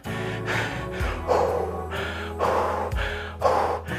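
A man imitates heavy breathing after jumping jacks, loud rhythmic gasping breaths, about four long inhale-exhale cycles, close to the mic with no words.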